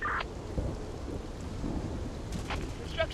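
A storm in the zombie survival strategy game Infection Free Zone, with steady heavy rain hiss and low rumbling thunder filling the whole stretch, a few sharper crackles near the end, no voices.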